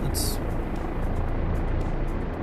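A helicopter flies with a loud, steady rotor and engine rumble that holds level throughout, with a brief high-pitched chirp right at the start.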